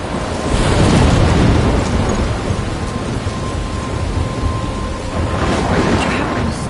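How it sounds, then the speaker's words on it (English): A thunderstorm in the video game Life is Strange roars as a loud, steady wash of heavy rain and rumbling thunder, continuous and enveloping, with no talk. "I'm trapped in a storm?"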